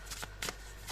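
Tarot oracle cards riffle in three quick, faint shuffling bursts at close range within a second, soft papery flutters against a quiet background.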